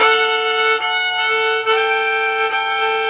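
A G note on a guitar, fretted with the finger placed too high, rings as one steady, buzzy tone full of bright overtones, sustained and close for the whole stretch with slight wavering dips.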